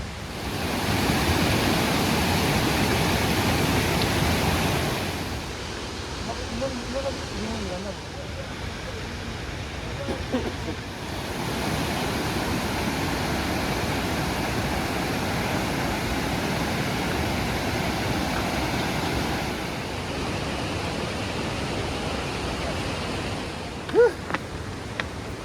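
A large river flows steadily in the open at a riverside campsite. The rush is loud, broadband and continuous, with a quieter stretch in the middle. Faint voices speak under it now and then.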